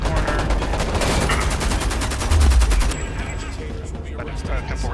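A heavy machine gunner in the shooter Homefront lets loose a rapid, loud fusillade of automatic fire that hammers on for about three seconds, then stops, leaving a quieter, rumbling battlefield background.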